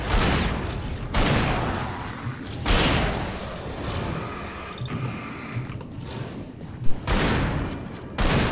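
Gunfire in the video game Alan Wake: several loud broadband bursts ring out at irregular intervals over a dense, continuous game soundscape, with a sharp crack standing out near the end.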